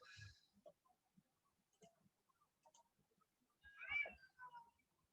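A cat meows quietly, once near the start and again more clearly later. Soft clicks and faint voices sit in an otherwise hushed room.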